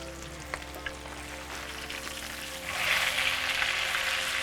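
Steak sears in a hot pan with a steady sizzle that swells and grows brighter partway through, with a couple of faint taps early on.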